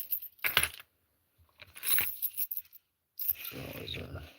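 Keys on a lanyard jangle and clink in three short bursts separated by quiet gaps, close up, with a faint voice in the background.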